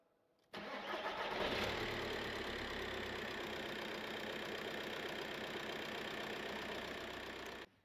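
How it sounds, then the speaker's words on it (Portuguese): A car engine cranks and catches, then settles into a steady, moderately loud idle that runs evenly for several seconds before cutting off. "Ok, foi feito o arranque do motor"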